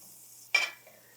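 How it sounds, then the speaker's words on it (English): Four tablespoons of butter dropped into a hot skillet give a short, sharp sizzle that flares up loudly, then quickly fades to a faint hiss, with no voices. "Let that melt."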